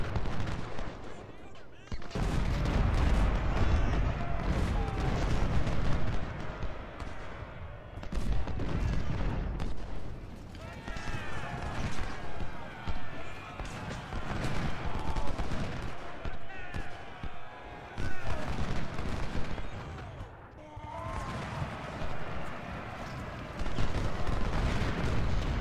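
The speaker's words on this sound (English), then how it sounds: "Hoffman and Bass, both those artillery units are blasting away." Artillery firing in the Civil War strategy game Ultimate General: Civil War, dense rolling cannon and musket volleys in long loud bursts with brief lulls between them, a voice talking over part of it.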